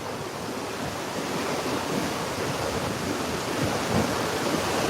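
Open ocean waves rush and wind roars against the microphone aboard a sailing ship off Bergen, Norway, a dense, steady wash of noise with no voices.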